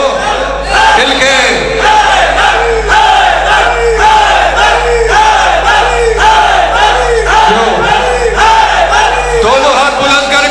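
A large mosque or majlis congregation chants the Shia religious slogan "Ya Ali Haider" in loud, rhythmic unison, the massed voices rising and falling in repeated waves from start to finish.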